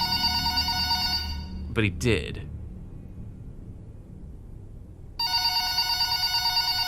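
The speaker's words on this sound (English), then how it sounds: "Now, time to receive a phone call." Phone ringing in a FNAF VHS horror game: a loud, bright electronic ring that cuts off abruptly, followed by a brief spoken line and near silence before the ring resumes just as loud.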